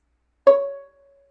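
A single bowed fiddle note on the A string, clear and sustained, swelling briefly and fading out over about half a second, alone in silence.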